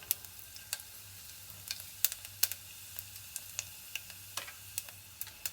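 Cumin seeds sizzling in hot ghee in a pan, a steady soft frying crackle with sharp pops and ticks scattered throughout, close by and alone.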